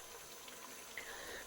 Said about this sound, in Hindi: तेज़ आँच पे भून रही हूँ पानी डाल के